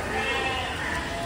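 A Sojat goat with a bor-pattern coat bleats amid the steady, dense crowd noise of the Deonar goat market, the call blended into the busy background rather than standing out.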